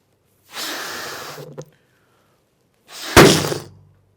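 Breathy puffs fill an inflated rubber balloon until it bursts with one sharp, loud pop, followed by a brief rustling tail.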